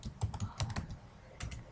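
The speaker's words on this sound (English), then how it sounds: "Suppose I'm typing basic tag" Bursts of quick keystrokes on a computer keyboard, a short clustered run of clicks, a pause, then a few more taps, close and alone.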